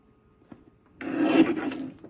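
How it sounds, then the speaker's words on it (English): A paper trimmer slides through two stacked sheets of paper in one scraping cut lasting about a second, preceded by a faint tap and quiet. "Let's trim this at 10 3/4, both sheets at the same time."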